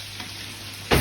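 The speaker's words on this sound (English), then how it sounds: "Baste that delicious venison with all of that hot butter." Venison steaks sizzle steadily in a pan of hot butter while being basted, a constant close frying hiss that surges louder near the end as more butter is spooned over; no talking.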